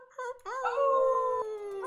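People imitate wolf howls and whoop, voices rising into a long, sustained wavering howl after a couple of short whoops, fairly close and loud.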